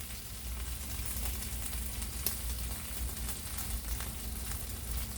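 Oscar Mayer bacon cut into quarters frying in a pan, giving a steady, even sizzle with crackling pops and one sharper snap, and no talk.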